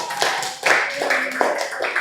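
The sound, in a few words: applause for a student after his self-introduction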